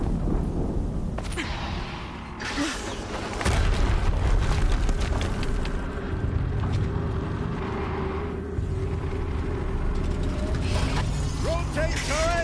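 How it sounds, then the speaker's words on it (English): A deep boom from an explosion in Horizon Zero Dawn rumbles under mechanical clatter and game effects, with a voice speaking over the action. "Another explosion."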